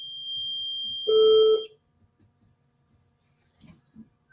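A SafeDefened security system alarm sounds with steady electronic tones: a high sustained beep for about a second and a half, then a louder lower tone, then quiet with faint scattered noises.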